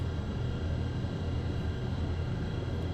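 Saunders-Roe SR45 flying boat in Flight Simulator X, its contra-rotating propeller engines droning in a steady, loud, low hum that holds constant throughout.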